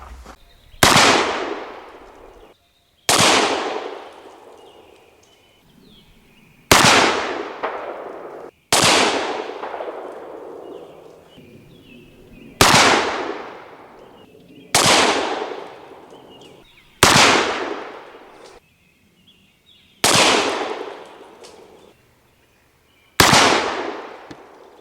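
An Italian-made Pietta 1851 Navy black-powder revolver fires round balls, eight loud sharp shots spaced a few seconds apart, each with a long echoing tail and silence between.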